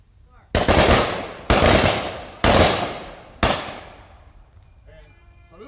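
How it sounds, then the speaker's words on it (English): An honor guard at a Memorial Day ceremony fires a rifle salute: four loud, sharp volleys about a second apart, each ringing out and echoing away, followed by a faint shouted command and some rustling. "Honor guard, prepare to fire."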